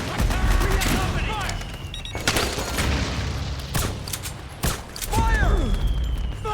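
Intense gunfire in Metal Gear Solid 4, sharp bursts and booms scattered among shouting soldiers and descending whistling tones, loud and close with voices throughout.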